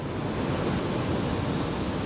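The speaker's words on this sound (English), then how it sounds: "the waves are so bloody big I can't tell sometimes" Big sea waves roll onto the shingle shore of Slapton Sands, making a dense, constant roar of surf with wind buffeting the microphone and no speech.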